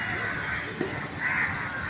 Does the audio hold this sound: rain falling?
no